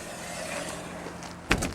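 A bus's emergency door swings shut during a hydraulic pretrip inspection, ending in a sharp latching clunk after a steady background hum of the idling engine.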